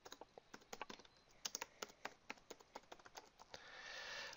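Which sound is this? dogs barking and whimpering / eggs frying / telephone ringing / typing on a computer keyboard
typing on a computer keyboard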